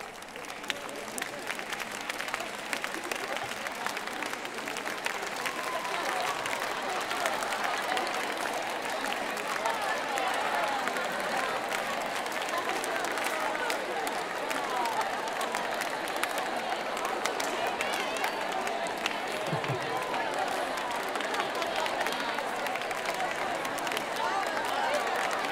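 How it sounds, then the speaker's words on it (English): An audience in a lecture hall claps out song rhythms to one another, a dense, continuous patter of many hands clapping throughout with murmuring voices mixed in. "I'd like you to try to clap the rhythm to that song, to the person next to you, and see if they can guess it"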